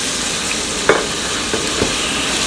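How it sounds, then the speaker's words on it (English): Garlic and ginger sizzle steadily in a hot pan, a dense continuous hiss with a few soft clicks and scrapes of stirring, close and fairly loud with no talking. "I'm just going to be using a little bit of my garlic this time and my ginger to just stir fry this one"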